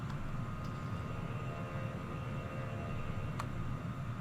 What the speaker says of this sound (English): Another plane going into land there.